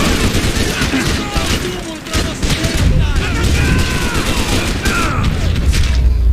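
Gunfire in the video game Max Payne 3: rapid bursts and booming shots pile up loud and dense across the whole stretch, with someone talking over parts of the firefight.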